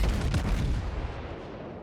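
Naval guns fire shells at the destroyer Clemson in World of Warships, with the Japanese battleship Ishizuchi as the shooter. The salvo comes as a loud, dense boom that fades out across a couple of seconds.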